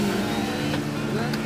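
4x4 vehicles driving on the Paoay sand dunes, a continuous engine drone with a steady low hum, fairly close and loud throughout, with voices underneath.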